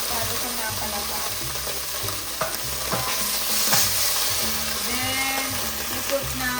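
Butter melts and sizzles in a hot cooking pan as the base for sopas, a steady close frying hiss with stirring scrapes and faint voices in the background.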